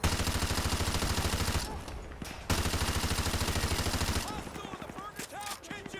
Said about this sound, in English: I was just shooting at them